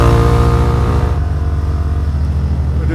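Motorbike engine droning steadily while riding along a road in Flores, loud and close with a constant low hum and wind rush, no talking.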